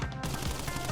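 Boss in the Crash Bandicoot video game firing a gun, a dense burst of rapid gunfire, loud and continuous for a brief moment.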